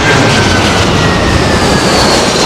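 A large aircraft lands at London Heathrow Airport in the gusty winds of Storm Kathleen, heard as a loud, continuous roar of engines and wind filling the whole stretch without a break; no talking.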